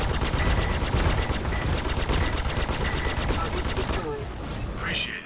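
Video game gunfire rattles in rapid, evenly spaced automatic bursts, loud and dense for several seconds before thinning out near the end.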